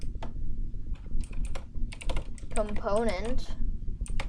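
Code is typed on a computer keyboard in the Unity editor, a quick run of close, clicky keystrokes that comes in bursts while someone talks over them.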